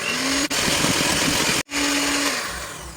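A Ramtons hand mixer beats eggs and sugar for cake batter, a steady loud electric whir close by, briefly cutting out twice before running on and slowly tapering.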